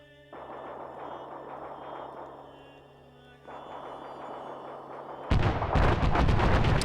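Artillery bombardment in a large 220-player PvP battle game, a steady rumbling barrage of distant blasts rolling on for several seconds, then swelling into a loud, close burst near the end.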